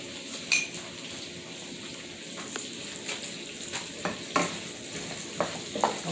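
Pinto beans with smoked turkey legs stirred in a pot, a spoon scraping and clinking against the sides over a constant low simmering hiss, with occasional sharper knocks.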